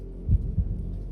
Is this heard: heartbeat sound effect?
yes